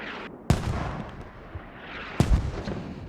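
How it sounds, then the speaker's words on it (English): Mortar rounds impact in Squad, with two sharp, heavy blasts about 1.7 seconds apart, each trailing into a rumbling decay over a low, noisy battlefield background. "I got mortared."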